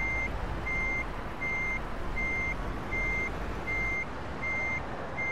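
A huge truck reverses in the Euro Truck Simulator 2 game, its reversing alarm beeping steadily about eight times over a constant low engine rumble.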